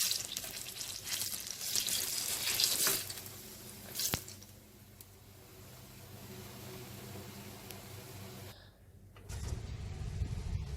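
Banana fritters (pazham pori) frying in hot oil give a steady, fairly quiet sizzle and crackle that swells and dips, with a brief clunk partway through and a louder bubbling hiss near the end.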